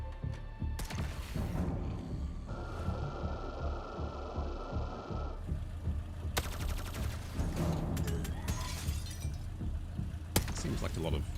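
Sustained gunfire and mechanical battle noise from the turn-based strategy game Xenonauts 2, busy and dense throughout with bursts of automatic fire, a voice talking over the combat.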